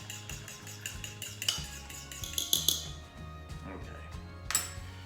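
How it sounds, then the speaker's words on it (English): A fork clinks and scrapes rhythmically against a dish while beating eggs for an Italian omelet, a quick metallic tapping with sharper clinks, close and moderately loud, with faint voice in the background. "Beat it again with my fork"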